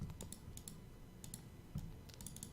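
Light, scattered keystrokes on a computer keyboard, faint and soft, come in small irregular clusters against a quiet room.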